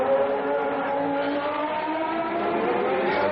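Engine note of Gerhard Berger's spare McLaren Formula 1 car, 1990 Monaco Grand Prix, moving steadily along the pit lane, a sustained mid-range drone that rises slightly toward the end, no voices.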